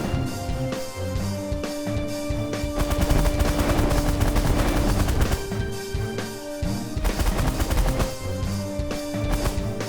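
Enemy ships in The Last Federation space strategy game firing weapons, a dense, continuous barrage of rapid laser and gun blasts layered over game music, loud and sustained.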